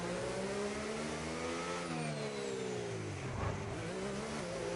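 A race car engine in a racing game, the race leader on hard tyres braking into the pit lane, its note sweeping down and back up in steady loud harmonics, alone with no talk.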